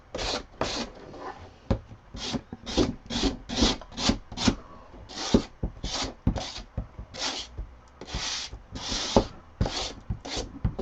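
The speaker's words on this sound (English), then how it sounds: "I'm just going to take some sandpaper and I'm going to sand it down" Sandpaper rubbed by hand along the rough edge of a paper or board piece for a pantry organizer, a steady series of quick rasping strokes, close and fairly loud, with no talking.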